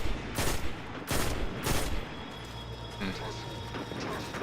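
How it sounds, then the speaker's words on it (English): Destiny 2 gunfire fills the opening with three loud, sharp bursts spaced about half a second apart, then gives way to quieter mechanical clatter and a steady hum. "He seems to be ignoring my bullets."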